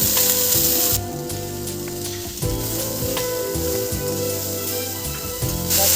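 Vegetable stalks and ridge gourd hitting hot oil in a pan for a traditional Bengali puishak chorchori with hilsa fish head, giving a loud, steady sizzle with bursts of frying as pieces go in and are stirred.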